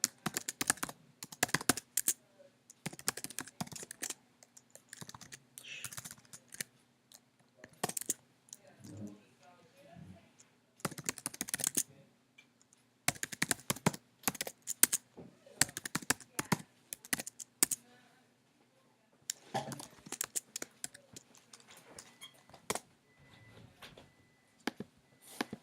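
Bursts of typing on a computer keyboard while a registration form is filled in, quick clattering clicks in irregular clusters with pauses, close and fairly quiet.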